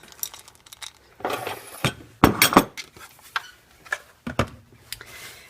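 A bowl of ingredients for chocolate cream pie being set aside on a kitchen counter, with clinks and knocks of dishes and utensils in scattered bursts, close by.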